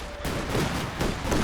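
Gunfire crackles around a Raketenwerfer rocket launcher during a 1v1 strategy game tournament match, a dense burst of rapid shots sustained through a brief moment of battle.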